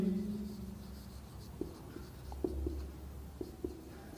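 A statement being written on a classroom board, with quiet scratchy strokes and a few small taps of the pen or chalk, heard up close over a low background hum.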